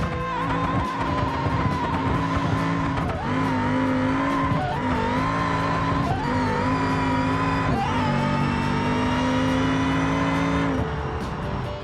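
A 1300-horsepower rear-wheel-drive minivan in BeamNG strains for grip on an unprepped drag surface: a loud, steady engine roar with shifting harmonic pitch and tire squeal, briefly dipping at gear changes and running unbroken without talk.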